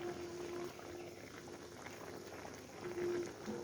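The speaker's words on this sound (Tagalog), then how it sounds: "Kumulo na siya." Tuna adobo with lemon bubbles in a pot, a steady close simmering with soft popping and gurgling, and a faint tonal hum comes and goes.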